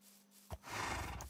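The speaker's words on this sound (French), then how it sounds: "C'est un cheval." Horse in the video game Minecraft, one short whinny-like snort after a brief thud, fairly close and alone with no talk.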